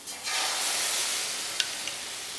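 Vegetable adai batter hits a hot tawa with a sudden soft hiss that settles into a steady, gentle sizzle, with two small sharp clicks near the end.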